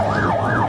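Wailing sirens of fire engines and ambulances rise and fall in a steady cycle as they arrive at the scene of an embassy bombing, loud and close over a low traffic rumble.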